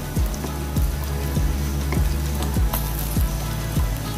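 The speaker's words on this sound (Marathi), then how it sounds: "मी बाकीच्या वड्या तळून घेते" Steady crackling sizzle of moong dal and cabbage vadas frying in hot oil, with regular soft bubbling pops throughout, close and fairly loud, no voices.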